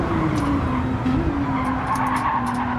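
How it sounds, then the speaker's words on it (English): A race car in Gran Turismo 7 brakes hard with a sustained tire skid and squeal over a loud, steady engine drone, a continuous close-up screech lasting the whole moment. "Very hard braking there from Danny Racing"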